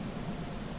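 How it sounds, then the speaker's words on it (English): A flat hiss of static noise fills a dim room in a first-person horror game, a steady, even wash of sound with no talk over it. "Ooh, Silent Hill static."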